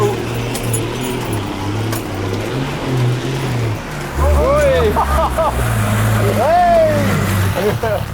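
An Isuzu D-Max engine labours up a muddy hill in pouring rain, with a loud, continuous rumble that surges and rises in pitch as it climbs. Voices can be heard over the engine.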